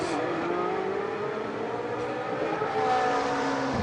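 A race car at the 2013 24 Hours of Spa powers uphill near La Source, its engine a steady, moderately distant roar building slightly toward the end.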